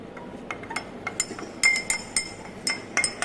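A spoon clinks against a glass while stirring a honey sample solution, giving a run of sharp, irregular taps and rings, close and clear over a quiet background.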